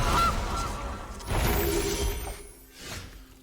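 A Gilded Goose card cast in the Magic: The Gathering Arena video game: a loud, honking goose squawk over a bright magical whoosh and shimmer, then a softer honk at the end, with no talking.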